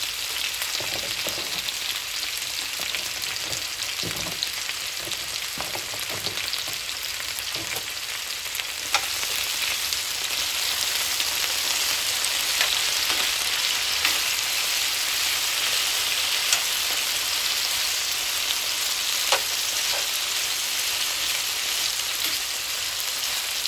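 Potatoes fry in a pan with a steady, broadband sizzle that fills the whole stretch, broken by occasional clicks and scrapes of stirring, close and fairly loud with no voices.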